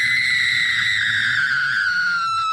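A loud, sustained high-pitched scream or shriek held steadily for about two and a half seconds, its pitch sliding slightly downward, with a low rumbling background underneath and no talk.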